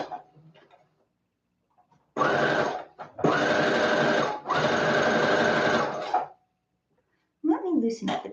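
A sewing machine stitches fabric for an avant-garde dress in three loud, steady mechanical runs of varying length, with a person talking briefly before and after.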